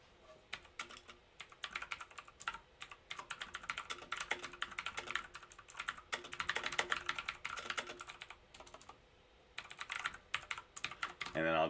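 Steady, fast clatter of computer keyboard typing while writing code, rapid keystrokes in uneven bursts with brief pauses, fairly close and soft.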